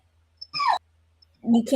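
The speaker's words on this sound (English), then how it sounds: "I love hearing the puppy in the background" A puppy lets out a short, high whimpering whine in the background, followed by a burst of muffled talking.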